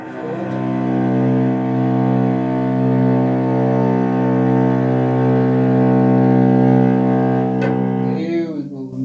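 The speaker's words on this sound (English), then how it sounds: "Now that's the sound of the C string." A cello's low C string is bowed in one long, slow stroke, a deep, rich, sustained tone that holds steady for several seconds close by before fading into a brief scrape at the end.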